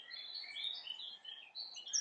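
A blackcap sings in a bluebell wood in England, bright warbling phrases close and clear over a quiet background, with a sharper burst of notes at the end.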